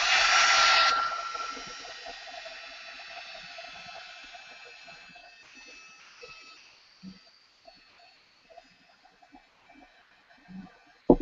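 A heat tool blows a steady, loud whoosh across a mixed media canvas for about a second, then keeps running more quietly for several seconds before fading, with scattered small clicks and taps near the end.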